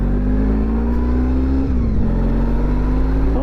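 A Honda ST 1100 motorcycle engine runs loud and close with a steady low drone, dipping briefly midway as the clutch is worked, then pulling again as it accelerates.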